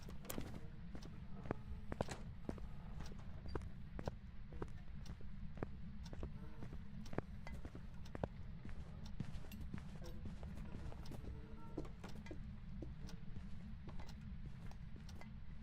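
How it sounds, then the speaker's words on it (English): A ghost's footsteps sound in the horror game Phasmophobia: a steady run of quiet, evenly spaced thuds that carry on throughout over a constant low rumble, with no voices. "you could still hear its footsteps"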